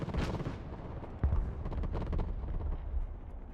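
A video-game tank fires at enemy infantry, with deep booming cannon blasts and rumbling impacts landing in quick succession over a dense battle din.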